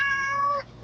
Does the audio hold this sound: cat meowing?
yes